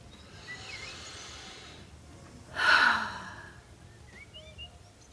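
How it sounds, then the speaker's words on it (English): A single big deep breath and long audible sigh during an EFT tapping session, a breathy exhale swelling up near the middle over a quiet background. "Big deep breath, big sigh."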